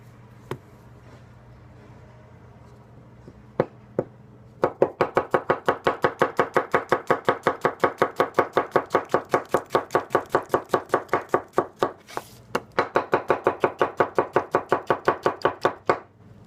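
Teruyasu Fujiwara 210 carbon steel knife slicing a tomato on a cutting board, a few isolated taps and then a long run of quick, evenly paced chops landing close and crisp, with a short pause partway through.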